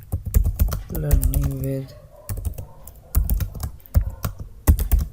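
Rapid clicking keystrokes on a computer keyboard while typing text into a Microsoft Word document, irregular bursts of close taps interspersed with someone speaking over them.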